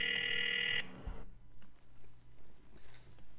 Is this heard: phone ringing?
yes